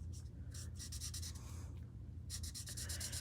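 Alcohol-based Stampin' Blends markers rub and scratch across paper in quick bursts of short strokes, soft and close, with pauses between flurries of coloring.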